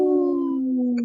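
A person imitates a wolf howl, holding one long, steady, gently falling tone that carries loud and close for about a second with no other sounds.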